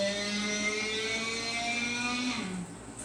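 An electric guitar's low E string is fretted at the 14th fret on F sharp, bent slowly upward and bowed at once, giving a sustained, buzzing, harmonic-rich drone that rises slightly in pitch before dropping away near the end.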